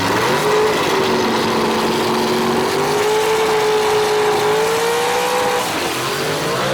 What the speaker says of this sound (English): Scott Duggins has put a race motor underneath the hood right there that puts out some big horsepower.